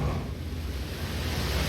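Water waves in Outer Wilds, a steady, broad rushing wash with a low rumbling swell, continuous and fairly loud with no one talking.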